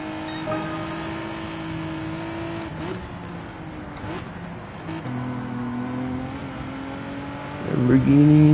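Lamborghini and Ferrari race cars run engines in Gran Turismo 7, steady droning tones that shift pitch through gear changes, ending in a louder rising rev near the close, with a voice talking faintly underneath.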